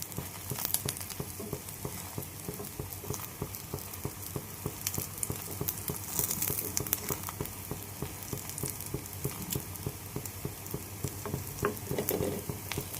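Egg batter sizzles and crackles in a little hot oil in a pan. The steady frying hiss is close and continuous, with small pops and no voices.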